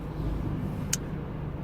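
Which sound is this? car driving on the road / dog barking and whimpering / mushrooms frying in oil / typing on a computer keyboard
car driving on the road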